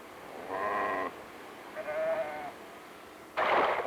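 Sheep bleat during shearing on a ranch near Montrose, Colorado, with three separate calls close by, two wavering and drawn out and the last harsher, over a low background rumble.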